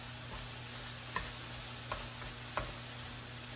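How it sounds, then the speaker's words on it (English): Sausage browns in a pan for biscuits and gravy, a steady faint sizzle running under three sharp taps as the meat is chopped, with no talking. "all we're doing now is just browning the meat"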